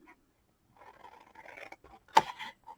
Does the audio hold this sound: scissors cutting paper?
yes